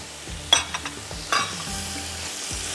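Small pieces of chicken sizzle and fry in a large pan, with a few scraping stirs breaking through the steady close hiss.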